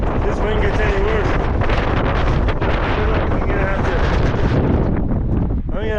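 Strong gusty wind roars continuously across a microphone on an exposed mountain pass, loud and buffeting throughout, with a voice faintly present beneath the rumble.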